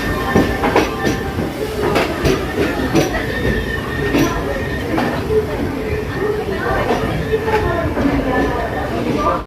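The Maveli Express rolls close by through Mangaluru Central station in a steady loud rumble, with wheels clacking rhythmically over rail joints, metallic squeals, and clanking carriages for the whole stretch.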